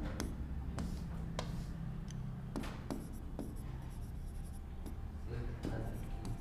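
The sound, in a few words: writing on paper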